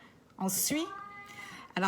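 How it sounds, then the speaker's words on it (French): A pet cat meows loudly nearby, a drawn-out rising cry followed by a start of another, between a person's brief spoken words. "ça, c'est mon chat, hein? Il est très vocal."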